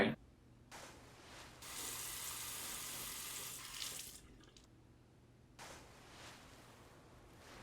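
Tap water runs into a sink in two bursts, a soft hissing rush that starts, stops briefly and resumes, fairly quiet with no talk.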